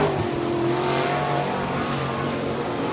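A dirt track race car engine roaring steadily through a corner at Swainsboro Raceway, Georgia, loud and sustained with a slight pitch shift as it passes.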